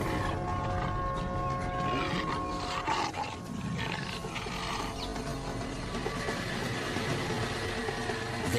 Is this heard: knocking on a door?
no